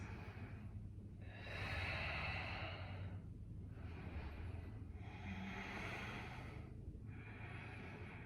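Slow, deep breaths are drawn in and let out during a yoga crescent lunge, about three soft, airy cycles, close and quiet, with a faint low hum beneath.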